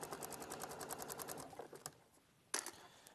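A sewing machine stitches a seam with a close, rapid mechanical chatter for about a second and a half, then stops, followed by a few isolated clicks and a sharp knock.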